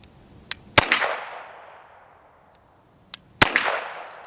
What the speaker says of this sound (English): that steel target giving us the instant feedback there